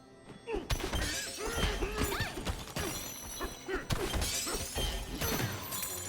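Gold being smashed in the video game Donkey Kong Bananza: a rapid run of loud shattering crashes, thuds and tinkling breaks, with brief jingling chimes between hits and no pause in the action.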